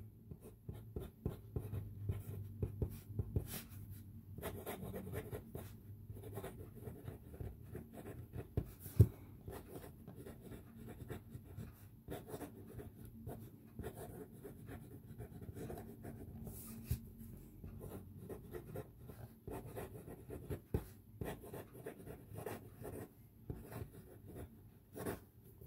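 A fountain pen with J. Herbin Lierre Sauvage ink scratches across paper on an iScholar writing tablet, a soft, steady rustle of strokes close up with small pauses between words.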